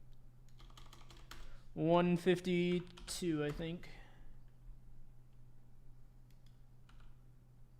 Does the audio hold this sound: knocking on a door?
no